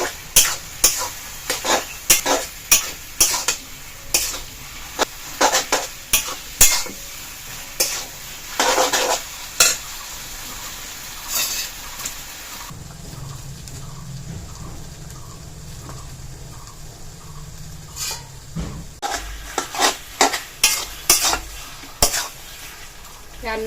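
A spoon repeatedly scrapes and clinks in a pot while rice paste is stirred into a pumpkin leaf curry. There is steady rhythmic stirring with soft sizzling beneath and a brief quieter pause midway.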